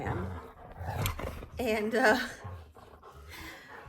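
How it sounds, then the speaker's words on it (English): Dogs scuffle in a fight, with rough growls and panting breaths rising in short bursts beneath ongoing talk in the room. "And now my dogs are fighting."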